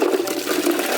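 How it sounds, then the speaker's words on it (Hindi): Water gushes steadily from a vessel into a clay-coated cooking pot of fresh farm potatoes, a loud, close, continuous pour with no talking. "अब पानी डाल देते हैं।"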